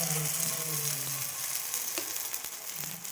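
Gunta ponganalu batter frying in a small-welled pan, a steady close hiss and sizzle with faint clicks of the pan, no voices.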